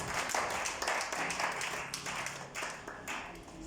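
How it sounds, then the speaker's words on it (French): A church congregation applauds during a Sunday sermon, a dense, steady patter of many hands clapping that carries on throughout without a break. "Acclamons pour la gloire du Seigneur"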